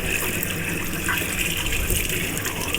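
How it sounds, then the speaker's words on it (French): Steady gush of tap water running over a glass pipe as it is rinsed, shifting from hot to cold, a continuous close splashing flow with no pauses. "Et vous allez descendre en température avec de l'eau froide tout doucement."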